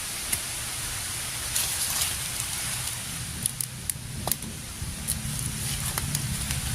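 A small wood fire burns in a cooking stove, with scattered sharp crackles and pops over a steady hiss and low rumble.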